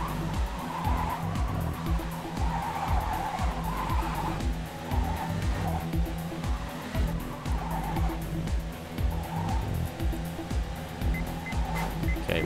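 Car tires skid and squeal on a racetrack in the racing game Trackday Manager, a continuous loud screech over a steady engine drone for several seconds, with no talking.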